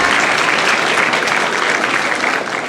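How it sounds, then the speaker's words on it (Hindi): An audience claps loudly and continuously to welcome a guest at a formal gathering, dense steady applause that tapers slightly at the end. "मनोज मिश्रा जी करतल ध्वनि के द्वारा स्वागत करेंगे मनोज मिश्रा जी का"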